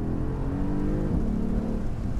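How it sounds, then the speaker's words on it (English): An AMG car's engine held at full throttle for a launch, a loud, dense roar with a low, steady rising rumble across the short span, no voices heard. "So full throttle, off the brake."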